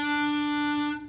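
A clarinet holds one clean, steady E note for about a second, clear and even with a reedy tone and no talk over it, then it tapers off at the end.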